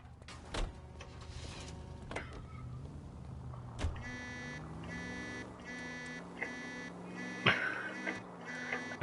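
A car alarm in the video game L.A. Noire sounds in steady repeating bursts of electronic tones, starting after a few seconds and pulsing on evenly, with engine rumble and a couple of sharp thumps underneath.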